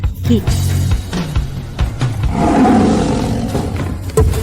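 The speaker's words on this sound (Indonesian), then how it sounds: "suaranya mungkin sedikit lemah tapi tetap berwibawa. Ini pasti anak harimau emas Timur Tengah." A golden tiger cub gives a loud, rough roar that swells and rumbles low over a few seconds, close up, with scattered thumps and background noise around it.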